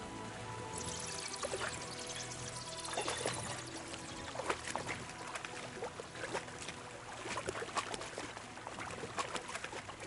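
A stream swollen past its usual small trickle flows steadily nearby, a continuous rushing and pouring of water with bubbly splashes scattered through it and no talking.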